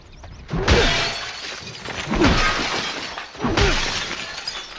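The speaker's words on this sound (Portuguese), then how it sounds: "Ah, só pra quebrar o vidro." Glass window panes shatter in The Last of Us, three loud crashes spaced about a second and a half apart, each a sharp burst of breaking glass followed by tinkling shards.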